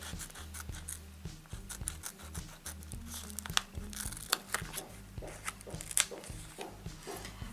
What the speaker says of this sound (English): So what I'm going to do is cut a line of these stickers